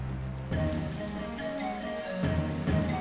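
Steady El Niño rain pours onto surfaces in a dense, continuous patter with a low, sustained hum beneath it.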